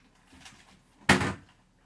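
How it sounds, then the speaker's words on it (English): A door swings shut with a single firm thud and brief rattle, fairly close and loud, after a faint rustle, with no talking. "Let's wait for the door to close."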